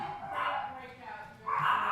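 Dogs barking and yipping indoors, a few bursts at moderate distance mixed with voices talking in the background.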